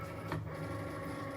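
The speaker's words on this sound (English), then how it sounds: "So I'm putting it into the Cricut." A Cricut Maker cutting machine pulls in its cutting mat with a brief mechanical whir and rattle, close by and steady.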